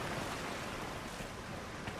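A character wades through water in the Dragon Age Inquisition Trespasser game, a continuous broad rushing and sloshing wash that stays steady and fairly soft for its whole short length.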